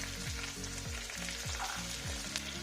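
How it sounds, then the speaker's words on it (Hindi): Chopped onions, ginger and garlic frying in hot oil over a high flame, giving a steady close sizzle with soft stirring scrapes throughout. "तेल गरम हो चुका है। अब इसमें 2 से 3 कटे हुए प्याज डालेंगे।"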